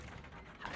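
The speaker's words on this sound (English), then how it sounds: "All right, pull the lever." Lever being pulled in Dark Souls, a brief grinding mechanical ratchet of gears and pulleys, close and steady for under a second.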